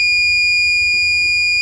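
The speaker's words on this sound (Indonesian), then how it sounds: "oleh karena itu si buzzer yang akan berbunyi" A piezo buzzer in a microcontroller light-sensor alarm circuit sounds a continuous shrill high-pitched tone, loud and unbroken, triggered when light hits the sensor, with no voices.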